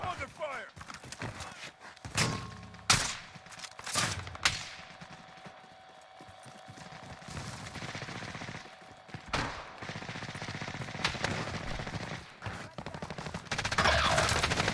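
Gunfire bursts crack through a PC shooter game in several sharp volleys, with ongoing battle noise between them and a voice talking over the action.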